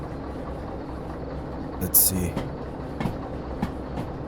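Freight train in Derail Valley rolling along with a steady low rumble and occasional clunks and clacks from the wagons, under a voice talking briefly.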